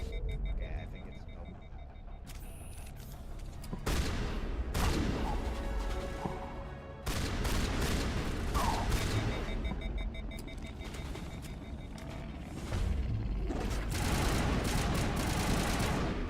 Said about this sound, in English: That's a sniper.